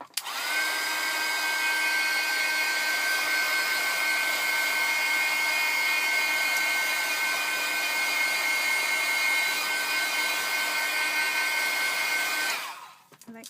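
A hair dryer blows steadily on a postcard coated with alcohol ink, running loud and continuous with a constant whine for about twelve seconds before switching off.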